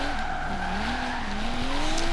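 High-speed car drifting in the Forza Horizon 3 racing game, a sustained engine drone with a long wavering tire squeal throughout, steady and fairly close.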